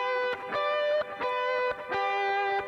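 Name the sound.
G note played on an instrument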